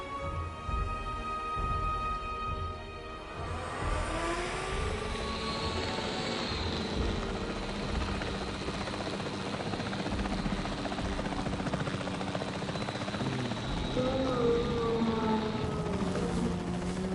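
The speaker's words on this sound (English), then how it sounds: "The priority needs to be tranquilizing it with the capture team chopper." The capture team helicopter in Jurassic World Evolution 3 hovers with a steady rotor thrum and whine, loud and continuous throughout, with a building engine tone early on and other game sounds mixed under it.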